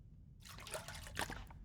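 Water trickling and dripping as it is collected in The Long Dark survival game, a faint splashy pour starting after a brief silence and running steadily to the end.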